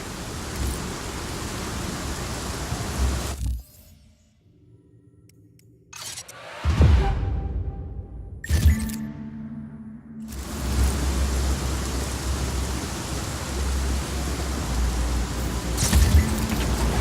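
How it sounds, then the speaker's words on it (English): Heavy storm rain hissing loudly in the video game Just Cause 4, breaking off briefly for a few seconds of quieter rumbles and sharp cracks, then returning as a steady downpour roar. "Storm's rolling in."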